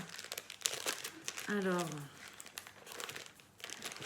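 A small plastic surprise sachet holding Gorgeous figures is crinkled and torn open by hand, a crisp burst of rustling in the middle, with a voice speaking briefly around it.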